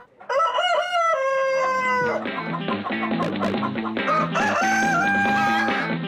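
Chickens crow and cluck loudly and close by inside a house, with a long crow up front followed by busy overlapping clucks and squawks.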